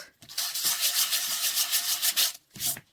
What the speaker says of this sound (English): normally I would go over this with like an old emery board, nail file, sandpaper, anything like that to make it nice